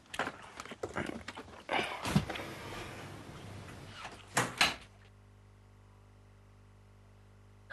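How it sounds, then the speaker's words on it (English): The Big Brother diary room door opens with a cluster of knocks, clunks and handle rattles, ending in a sharp clack before quiet hum. "the door to the diary room will open shortly"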